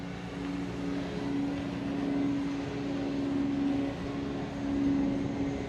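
A DJI Mavic Mini drone flies past close by outdoors among fall foliage. Its small rotors give a steady, whining buzz that swells and fades slightly as it moves, with no voices.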